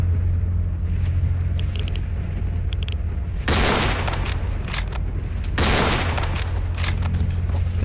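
Gunfire in the shooter S.T.A.L.K.E.R. Anomaly: a steady low rumbling drone is broken by two loud bursts of shots, each lasting about two seconds with rapid crackling reports. No one speaks.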